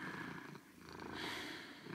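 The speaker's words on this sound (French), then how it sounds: "Son chat en profitait pour prendre sa place et ronronnait tranquillement sur la couette" A cat purring contentedly on a duvet, soft and close, with a steady rhythmic rumble that swells slightly with each breath.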